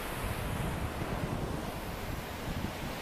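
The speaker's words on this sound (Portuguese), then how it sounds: "O mar tá enchendo." Waves of a rising tide wash continuously against the shore, a broad steady roar with wind buffeting the microphone and no voices.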